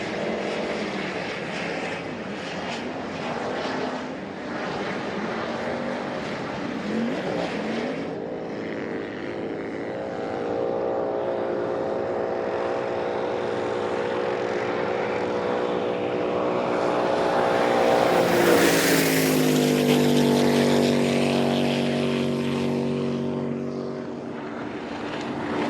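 Jet boats racing at the World Jet Boat Championship, engines roaring loud and close as they pass, a long rising and falling howl with a sharp surge midway before fading slightly.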